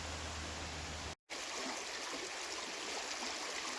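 A small tributary stream flows in Letchworth State Park, making a steady, hissing rush of water with a brief dropout near the start.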